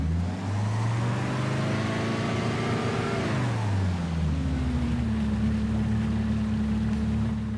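A sport boat's motor in Farming Simulator 25 drones loudly and close, its pitch sliding up and falling away before settling into a steady idle-like hum.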